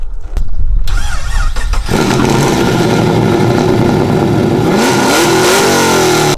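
A car engine cranks with a short starter burst, then fires and catches into a loud, steady rumbling idle that swells with revs near the end, close and dominant throughout.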